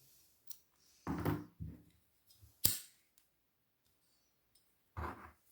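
Scissors snipping crochet yarn in a few sharp, close clicks and cuts separated by quiet pauses, faint and intermittent with no talk.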